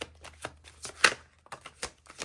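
Tarot cards riffled and shuffled by hand for a reading, a rapid series of soft papery flicks and slaps, close and quiet, with one sharper snap in the middle and no talking.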